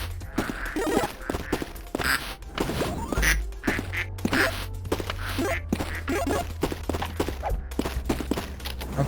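Rubber ducks in a video game factory quack in a dense, steady stream of sharp repeated squeaks, loud and close, running over a low continuous game hum with scattered thuds.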